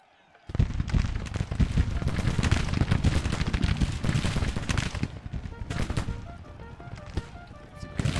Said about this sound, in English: Keep firing into them, boys